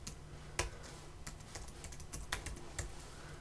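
Quiet typing on a computer keyboard while coding in Xcode, a scattering of light, irregular key clicks and taps over a faint room hiss, close and with no one speaking.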